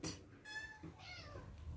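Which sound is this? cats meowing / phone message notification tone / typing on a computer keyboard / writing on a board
cats meowing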